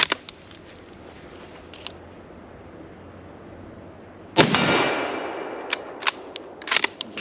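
A Mauser 98K bolt-action rifle fires at steel plates 50 to 100 yards downrange. One loud, sharp report rings out in the middle and decays, and short sharp clicks and bangs follow, with no talk.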